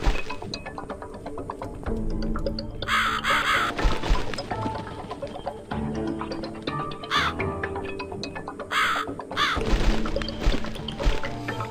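A crow cawing amid the busy soundscape of the horror video game The Cat Lady, with several harsh calls rising over layered ambient music and effects.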